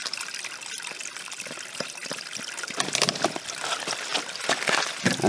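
Water squeezed from a backpacking filter bag into a bottle, a close, irregular trickling and gushing stream that grows a little stronger toward the end.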